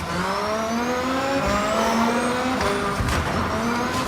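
A car driving through a city in a racing video game, its engine droning loudly with rising revs and gear shifts, plus some tyre noise, continuous throughout.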